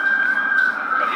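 An ambulance siren wails as one continuous, fairly loud tone that slowly drifts in pitch over a short stretch, heard on a city street.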